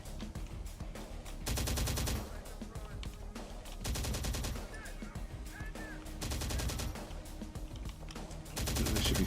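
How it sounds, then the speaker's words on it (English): Gunfire from the video game Terminator: Dark Fate Defiance, Uprising DLC: repeated loud bursts of rapid automatic fire alternate with quieter stretches of scattered shots and battle noise. "They should be firing."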